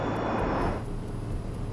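An airliner on approach with its landing gear lowered gives off a steady, broadband engine roar and rushing airflow, loud and continuous, with a thin high whine easing off partway through.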